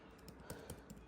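Typing on a computer keyboard, with a few quiet, evenly spaced key clicks heard close up against a faint room hiss, and no talk.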